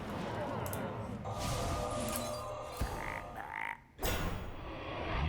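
Frog croak from the Hearthstone card game, dense game sound effects with a couple of brief croaking bursts amid busy background music and effects.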